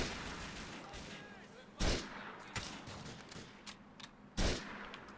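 Gunfire in Grand Theft Auto IV rings out as a few sharp shots at irregular intervals, two louder blasts standing out over a constant background of game noise.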